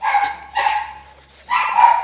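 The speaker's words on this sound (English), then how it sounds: "my little doggies are barking for a moment, sorry, because they always bark when someone walks past with another dog" Small pet dogs bark close by in three quick bursts of sharp, high yappy barks separated by short pauses.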